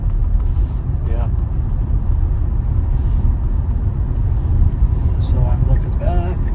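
A Tesla accelerates to merge into traffic, with a steady road and tire roar dominating up close, passing traffic around it and a voice talking briefly.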